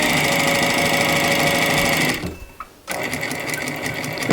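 Sewing machine with a narrow presser foot stitching along a little dress edge, a loud, steady, fast mechanical whir that stops for a moment partway through, with a faint click in the gap, then resumes.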